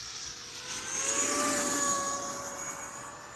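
An airplane passes the camera with a whining, droning jet roar that swells to a peak midway and then eases off, heard alone without talk.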